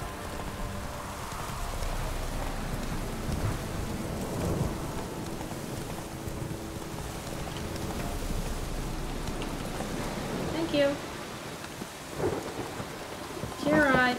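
Thunderstorm in Witcher 3: steady heavy rain hisses throughout while low thunder rumbles roll beneath, with a sharper crack near the end and a brief voice speaking softly.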